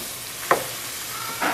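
Onions and garlic cook in a pan with a soft, continuous sizzle, broken by two brief clinks or scrapes from a utensil, close and moderately quiet.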